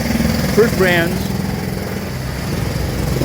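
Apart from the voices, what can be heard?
drilling noise in background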